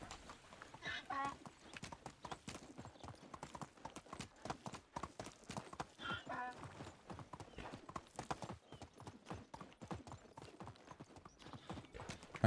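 Donkey hooves in the medieval farming game Medieval Dynasty, clip-clopping in a steady walking rhythm close by for the whole stretch, with a few brief vocal-like bursts mixed among the footfalls.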